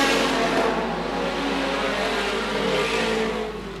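Race cars roaring as they accelerate off the start at a Victory Raceway oval event, a loud, sustained wall of engine noise from several cars at once that fades slightly at the end.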